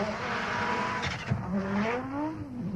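An Audi Quattro rally car of about 1,200 kilograms braking hard, with new water-cooled brakes spouting steam: a loud engine note over constant road noise, a short tyre squeal and a sharp knock, then revs falling and rising again.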